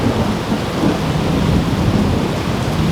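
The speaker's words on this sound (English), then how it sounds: "It's a heck of a storm." Thunderstorm with rolling thunder and heavy rain beating steadily on surfaces, a dense, loud, continuous roar with low rumbles surging throughout and no voices.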